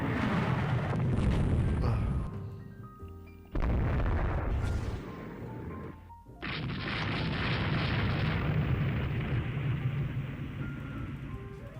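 Heavy, sustained booming of naval gunfire from warships in Rule the Waves 3, dense rolling blasts that cut out abruptly twice and resume, loud and continuous without speech.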